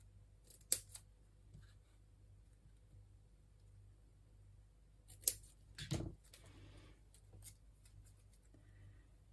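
Scissors snipping through paper for a craft project, a few separate crisp cuts spaced across the stretch, with a steady low hum underneath and quiet pauses between.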